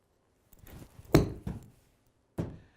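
A golf club strikes a ball from a tight lie for a high shot: a soft scuffing swing noise, then a sharp, crisp thunk of contact, followed by another lighter knock a second later, in a quiet outdoor setting.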